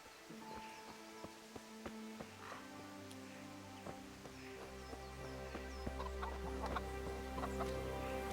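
Hens on a medieval farmyard in Kingdom Come: Deliverance, scattered soft clucks over steady game ambience with a low droning layer swelling partway through; no talking.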